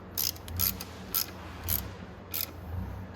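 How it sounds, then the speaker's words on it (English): A ratchet clicking in short bursts as bolts are tightened on the voltage rectifier of a Venom X22 125cc motorcycle, four or five close, sharp ratcheting runs with pauses between them and no talk. "So let's tighten these back in."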